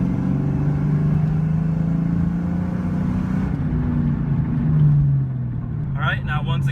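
A car engine hums and rises in pitch as it accelerates in third gear, with a steady droning rumble that swells and then eases, while someone talks over it.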